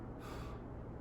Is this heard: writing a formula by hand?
no